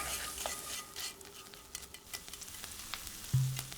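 Anchovies in olive oil sizzling quietly in a pan, a low, soft frying hiss with faint scattered clinks and stirring taps, and a thud near the end.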